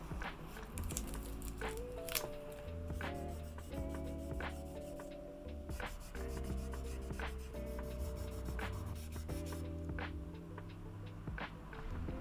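Oil being rubbed by hand onto the fretboard of a Guyatone LG-80T guitar just unmasked after fret levelling, a soft close rubbing and wiping with light crinkles and a few taps, steady and quiet throughout.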